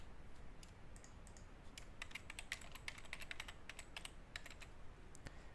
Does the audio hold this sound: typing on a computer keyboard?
yes